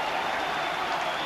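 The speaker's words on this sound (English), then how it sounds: "The crowd goes mad." Rugby crowd at a Great Britain versus New Zealand match roaring and applauding after a late try in the corner, a dense, sustained wall of cheering throughout.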